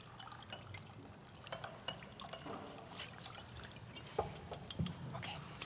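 Drinking water pours into a glass at a lectern during a design exhibition opening, a faint trickle and drip under room murmur and rustle, with brief voices nearby.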